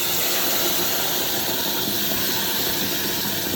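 Fresh tomatoes hit a hot pan of cooked-off spices, ginger and garlic for butter chicken, giving a steady, loud broadband sizzle and hiss that holds evenly throughout with no talking.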